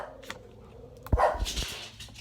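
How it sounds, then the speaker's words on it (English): A household dog barks noisily as someone arrives home: a few sharp, fairly close bursts over a quiet room background. "the dog noisily barking at him"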